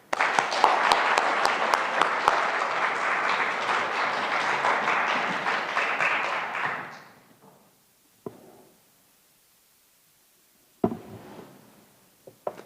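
Audience applause welcoming the lecturer at an exhibition opening lecture, a dense burst of many hands clapping for about seven seconds before fading, followed by a few isolated thumps and faint movement.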